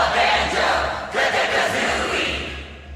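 Arena crowd in a Super Smash Bros game chanting a fighter's name in repeated syllables, a loud, dense roar of many voices rising and swelling in rhythmic waves throughout.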